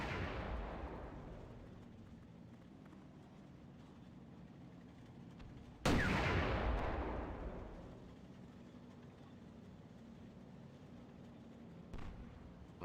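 Booming gunfire in the WWII Online combat game, two heavy distant-sounding blasts several seconds apart, each with a long rumbling decay, then a faint third thump, no speech.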